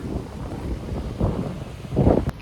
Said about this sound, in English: And the wind actually feels so good.